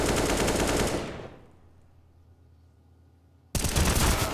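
Automatic rifle and pistol fire in the Counter-Strike map Nuke during a pro match: a dense, loud burst of shots for about a second, a quiet lull, then another heavy volley starting abruptly.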